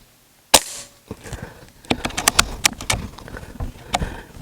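An air gun fires once at a target with a sharp, close crack, followed by a scatter of quick clicks and small knocks.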